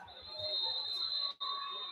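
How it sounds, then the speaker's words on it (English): A referee's whistle at a high school football game between Yorktown and Delta gives a long, steady shrill blast that cuts off briefly and resumes, with crowd murmur and low thumps underneath. "Now we've got a whistle and a timeout."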